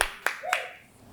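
Scattered claps from a small live-music audience, a few sharp hand strikes about a quarter second apart with a short echoing tail, fairly close and alone without talk.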